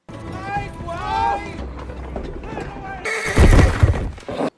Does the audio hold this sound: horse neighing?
yes